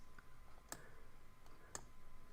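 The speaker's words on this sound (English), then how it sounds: "And then I'm just clicking on the screen" A computer mouse gives two faint, sharp clicks about a second apart, with no voice over them.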